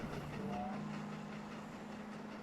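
A train of Mark 1 carriages passes steadily with a continuous rumble and a sustained tonal hum, fairly loud and close, with no voices.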